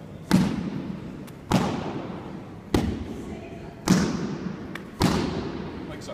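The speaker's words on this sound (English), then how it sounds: "So if you're getting this kind of dull thud, that's great." Five dull, heavy punches land on pads, evenly spaced about a second apart, each a close thud with a short decaying tail.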